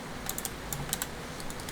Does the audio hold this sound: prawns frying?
no